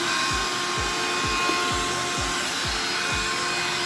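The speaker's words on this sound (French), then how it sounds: "Je vais essayer d'aspirer le petit bout de carton là." A vacuum cleaner, a Roborock H6 or a Lidl Silver Crest, roars steadily while it sucks up a small piece of cardboard, with a rhythmic low thumping pulsing under the constant whine.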